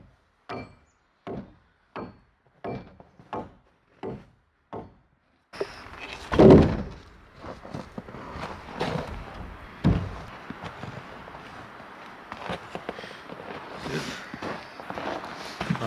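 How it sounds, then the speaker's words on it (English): Hand chisel knocking a piece out of a log in a log cabin wall, heard as a run of seven crisp, evenly spaced wooden knocks, then louder rough scraping and thumping wood handling. "I need to get my chisel and knock out one piece here"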